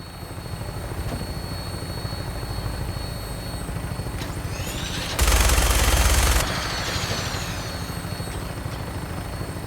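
Helicopter flight in Fallout 4 carries a steady, loud rotor and engine drone throughout, broken midway by a roughly one-second burst of heavy machine-gun fire over the constant hum.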